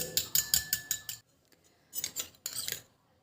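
A utensil beats onion juice into hair oil in a small bowl, giving a quick run of close, rhythmic clinking strokes, then a pause and a second shorter burst of whisking.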